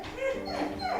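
Basil the dog whimpers in a short run of high, wavering whines, close and fairly soft, with nothing else over it.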